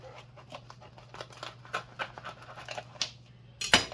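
Garlic cheese bread being cut, heard as a series of soft, uneven crunchy cuts through the crust over a low steady hum, ending in a sharper, louder crunch.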